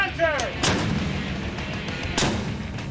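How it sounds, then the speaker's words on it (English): A warship's launcher fires chaff rounds at sea, two heavy booming blasts about a second and a half apart, with rumbling noise rolling between them. "the chaff rounds are launched"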